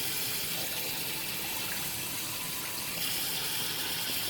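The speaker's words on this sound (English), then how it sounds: "Let me add some more water because that root is up on there." Water poured steadily onto a monstera cutting, a faint, even trickling gush that runs unbroken throughout.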